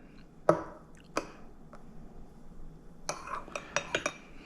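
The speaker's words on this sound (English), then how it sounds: "We'll give ourselves a nice little stir here" A spoon stirs coffee with milk in a mug, giving a few sharp clinks against the cup spaced through the moment, with a quick cluster of taps near the end, close and clear with no talk.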